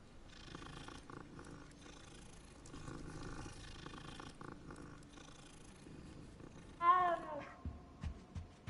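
Cats purring in the video game Hogwarts Legacy: a steady low rumble that runs under faint background game sounds for most of the stretch, followed near the end by a brief brighter call and a few soft thumps.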